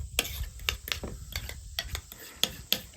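A spoon stirring mayonnaise, dill pickles, dill and pepper together for tartar sauce in a bowl, a series of sharp clinks and soft scraping strokes, close by and without talking.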